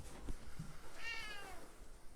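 A hybrid rescue cat at a wildcat sanctuary lets out one drawn-out meow, fairly faint against quiet background.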